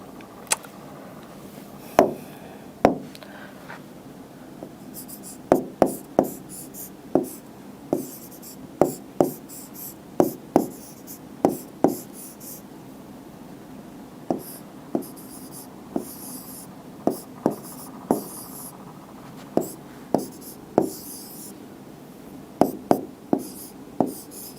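A reasoning-class family tree diagram being drawn by hand, heard as roughly twenty crisp, close pen or marker strokes and taps in an irregular rhythm, with no talking.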